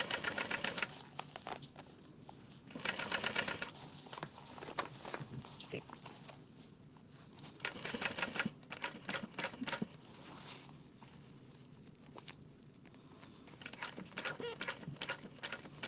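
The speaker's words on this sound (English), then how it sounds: "I kind of like snip and then see how far the snips are going to go before I set the scissors back down" Scissors snip through fabric while a sling is sewn, a scattering of short crisp clicks spread across the stretch under ongoing conversation.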